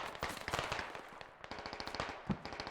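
Rapid gunfire crackles in an infantry battle video game between USMC and Chinese Marines, a burst of sharp, closely spaced shots rattling fast and moderately loud.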